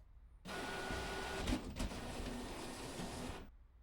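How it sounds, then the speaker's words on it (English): A printer in a video game whirs steadily as it prints a ticket, a mechanical hum lasting about three seconds with a short pulse of motor changes midway, then stopping. "I'll send the modified picture to the printer."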